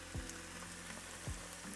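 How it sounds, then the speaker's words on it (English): Vegetables fry in a pan of oil with a faint, steady sizzle and crackle throughout, plus two soft low thumps. "the vegetables are beautifully frying in all of that oil"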